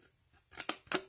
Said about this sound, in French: D'avoir des ciseaux qui coupent bien jusqu'à la pointe.